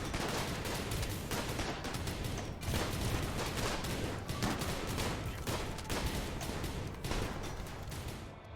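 Sustained gunfire rattles through a RimWorld battle against tribals in a heavily modded colony, with dense, overlapping shots and bursts that stay steady and fairly quiet, no voices.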